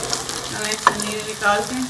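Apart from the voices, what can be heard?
chicken vegetable kababs frying in a pan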